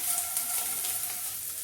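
Squid pieces coated in semolina (rava) fry in hot oil, a close, steady, crackling sizzle with bright hissing spits, heard alone without talk.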